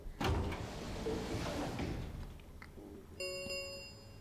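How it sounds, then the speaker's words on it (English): Warehouse doors in the video game Virtue's Last Reward rumble as they slide shut, a broad grinding roll that fades out, then a bright ringing chime-like tone follows at the end. "the warehouse was filled with the rumbling sound of the doors sliding shut"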